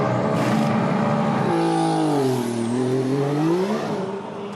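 Formula 1 car with a punctured tyre limping back to the pit lane, its engine whine loud and close, pitch dipping and rising as it changes speed, steady throughout.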